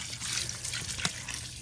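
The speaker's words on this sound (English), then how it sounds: "So you can see how full of water I fill this." Water poured into porous biochar, a steady close trickle and gurgle with a small splash near the middle, short and on its own without talk.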